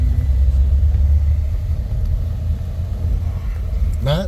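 A 1940 Ford Sedan Deluxe with a three-on-the-tree column shift rumbles along while driving, its engine a steady low drone filling the cabin from start to finish.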